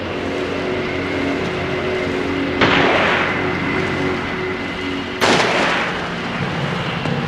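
Two sharp gunshots crack out about two and a half seconds apart in the PS2 game Siren, each loud and abrupt over a steady, droning background ambience.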